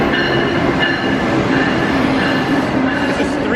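Amtrak 152 train bound for Boston, a loud, close and continuous rumble of railcars with faint rhythmic wheel clatter and a thin squeal, no voices.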